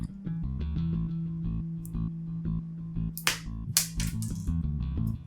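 A LEGO Star Wars minifig crossbow from the Millennium Falcon 75105 set firing its projectile, sharp plastic snaps and clicks over a steady tonal hum, with a cluster of bright cracks near the end.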